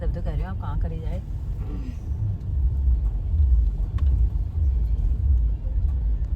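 A car pulls up and parks by a roadside near a family sangeet celebration in the hills, its low engine rumble steady and close while someone talks briefly at the start.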